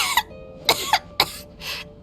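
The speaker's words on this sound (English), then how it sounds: "How long have you had that cough, Tonya?" A video game character coughs in three harsh, separate bursts spread over about two seconds, each sharp attack trailing into a rough throaty rasp, close and clear over a quiet background.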